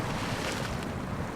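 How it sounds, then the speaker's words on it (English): A Caterpillar CT380 or CT381 truck in SnowRunner plunges into a river and is dragged by the current, giving a steady, loud rushing of churning water and wind-like wash without pause. "Plunged straight into the water"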